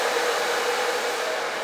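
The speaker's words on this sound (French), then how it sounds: "j'essaie de ne pas coller le sèche-cheveux à ma longueur de cheveux" Hair dryer blowing on long hair during a wash day, a continuous loud, even airy roar held close throughout with no talking.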